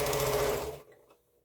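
Sewing machine stitching strips for an improv quilt, a close, steady whir that stops abruptly partway through, leaving near silence.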